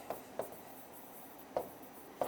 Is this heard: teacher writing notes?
yes